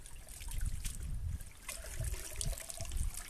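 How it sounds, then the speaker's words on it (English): Duckweed-covered pond plant dunked and swished in a bucket of water, giving close, irregular sloshing and trickling splashes in uneven bursts, with no talking. "I've literally just got a bucket of water here, and I'm just dunking it in"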